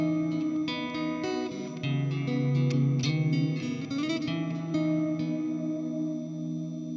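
Clean electric guitar tone with a lush cloud reverb from a modded Thomson ES-420 HSS Stratocaster. Plucked notes and chords ring out near and steady, the washy tails blend into each other, and there is no voice.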